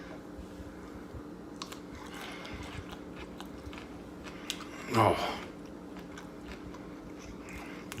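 A single loud crunchy bite into spiced roasted carrots sounds close up around the middle, set against quiet kitchen room tone with a brief exclamation from a person.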